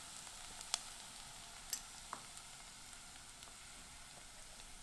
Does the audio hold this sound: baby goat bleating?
no